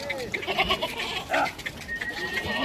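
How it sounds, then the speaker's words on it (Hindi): Goats bleating at a crowded livestock market ahead of Eid, several animals calling in overlapping, wavering cries over a background murmur of the bustling crowd. "ये देखें माशाल्लाह से एक से बढ़कर एक बकरे हैं"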